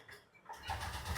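A Honda Activa 125 BS6 scooter with about 20,619 km on it starts up, its engine catching after a short quiet moment and settling into a steady close idle hum.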